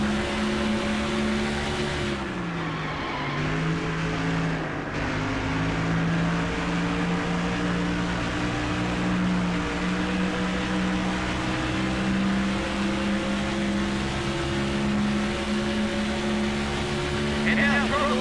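Race car engines from a NASCAR video game at the 2004 UAW Daimler Chrysler 400 in Las Vegas drone steadily throughout, with several pitches shifting as cars run under caution, continuous and fairly loud, with faint speech-like commentary mixed in.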